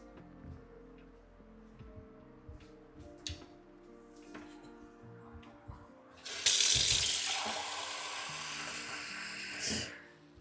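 A water tap is turned on and runs into a sink with a loud, steady, close gush that lasts several seconds and then cuts off, after some quiet knocks and small indoor clatter.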